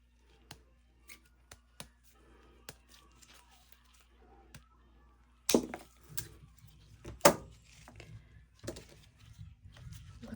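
Scissors snip material for a handmade trinket tray, a series of sharp, crisp cuts at an uneven pace, close by, joined later by louder handling and crinkling.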